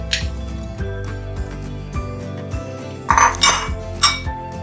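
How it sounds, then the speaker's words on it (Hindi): Chicken and tomatoes go into a karahi pan, producing clanks and thuds of metal against metal with some clinking, fairly close and loud, with no talking. "अब हमने कढ़ाई ले ली है, और इसमें हम चिकन डालेंगे, और अब इसमें हम टमाटर डाल देंगे"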